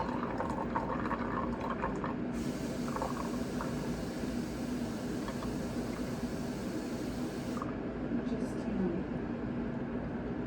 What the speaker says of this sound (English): So we have to fill our handy dandy water bottle or water cup, which we got from Briarfest,